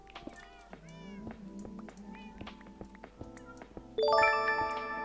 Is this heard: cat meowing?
yes